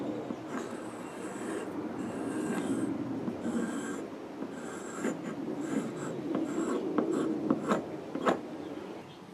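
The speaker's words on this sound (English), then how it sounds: "So I'm ready to draw my first circle." A compass pencil scrapes around a circle on a wooden bowl blank, a continuous gritty scratching that rises and falls in short strokes at close range, with a few light taps.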